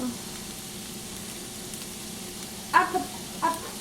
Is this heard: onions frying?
yes